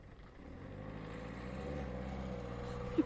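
A noisy car pulls away from a hilltop car park at dusk, its engine a steady low rumble that builds gradually, heard from a moderate distance in an otherwise quiet outdoor setting.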